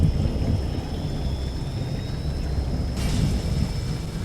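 Storm weather rumbles outside, a continuous low roar of wind and rain with deep thunder-like rumbling, steady and fairly loud throughout, with a brighter gust near the end and no voices.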